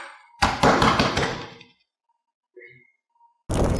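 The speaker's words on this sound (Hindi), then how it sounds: "दोबारा खटखटाओ।" A door is knocked on again after a demand to knock, with a burst of loud, close raps, then near silence with faint small sounds, then another loud round of knocking begins.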